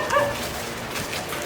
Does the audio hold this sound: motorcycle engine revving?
no